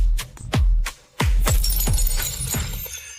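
An heirloom lotus cup shatters in a series of sharp, loud crashes with ringing, clinking fragments that scatter and fade over a few seconds.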